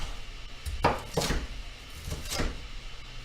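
A knife chops a pepper into chunky pieces on a cutting board, giving three or four distinct close, solid thunks spaced about half a second apart, with no talk.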